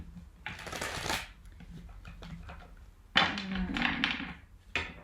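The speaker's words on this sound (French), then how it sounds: "J'ai envie de rajouter une carte de tarot." Tarot cards being shuffled by hand, a close papery riffling in several bursts with soft taps and slides in between.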